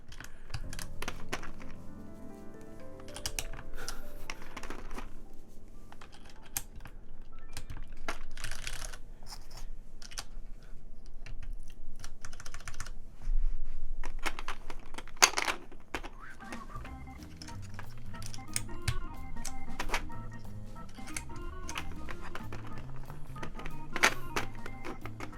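GMK keycaps being pressed onto a RAMA M65-A mechanical keyboard, giving scattered sharp plastic clicks and snaps, some in quick bursts and some singly, with light rustling and handling between them and a faint low hum under part of it.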